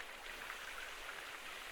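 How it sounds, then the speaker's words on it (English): Water pours and splashes as a container is dumped out in Gold Mining Simulator, a steady broad rushing hiss that runs evenly for the whole moment with no one talking. "Oh, we just dumped all the water out of that."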